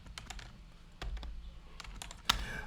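Keys clacking on a computer keyboard while a device name is entered into a Windows server search field, a quick irregular patter of close, fairly quiet taps with a sharper keystroke near the end.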